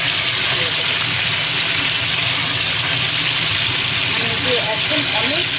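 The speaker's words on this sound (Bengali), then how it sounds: "চলো, তেলটা গরম হয়ে গেছে, এবার আমি এই চিকেনগুলো একটু ফ্রাইয়ের জন্য" Pieces of chicken sizzle in hot oil for a korma curry, a loud, constant frying hiss with faint popping that runs unbroken throughout.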